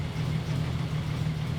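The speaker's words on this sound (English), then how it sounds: "Like it's idling okay." A Toyota 1FZ-FE engine in an 80 series Land Cruiser idles steadily up close, a continuous low hum with a faint rattle and no talk over it.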